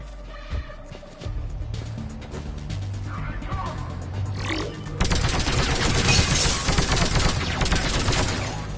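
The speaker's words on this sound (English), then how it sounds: "Sheperd, we're under fire." Rapid gunfire crackles in a Mass Effect 3 combat scene, starting sparse amid music and ambient rumble, then swelling after a few seconds into a dense, loud, continuous fusillade of overlapping shots.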